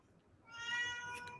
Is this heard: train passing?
no